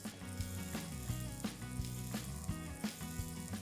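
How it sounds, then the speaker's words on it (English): Hot oil sizzles steadily on a bajra (pearl millet) chilla in a pan, a close, continuous crackle with small irregular pops throughout and no voices. "I'm going to take the same oil from the pan and add on top of the chilla like so"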